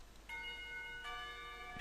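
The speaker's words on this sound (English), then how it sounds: "The bell rings and I grab my lunch and dash up the stairs" A school bell in the visual novel game Katawa Shoujo rings faintly in a few soft, chime-like strikes with long sustained tones that overlap and linger.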